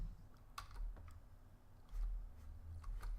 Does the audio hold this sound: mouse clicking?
yes